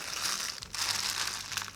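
Plastic bags holding board game pieces for Atlantis Rising second edition being opened, a close, soft, continuous crinkling and rustling with a brief pause midway.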